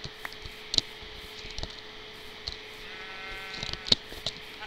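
A Minecraft sheep gives a single wavering bleat in the middle, set among soft clicks and taps against a quiet, steady background hum, with nobody speaking.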